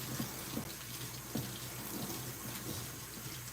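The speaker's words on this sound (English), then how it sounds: "It's gotta fill up with water, I guess." Tap water running steadily into a tub being filled for washing a pit bull, a continuous rushing splash with faint knocks, fairly close and uninterrupted.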